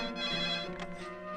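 A telephone rings steadily over an otherwise quiet line just after a call is placed, clear and close with a continuous tonal trill and no voices.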